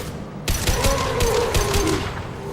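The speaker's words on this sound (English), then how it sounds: "Firing a high impact shot!" A volley of heavy gunfire from the Mass Effect 2 video game, with a sharp opening blast and then rapid, loud repeated impacts and rumbling that carry on to the end.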